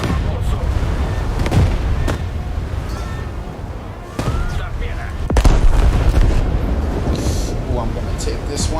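Heavy naval guns boom from a battleship in the War Thunder video game, several loud broadband blasts spread across a busy mix of continuous rumble and game noise, with a player talking over it.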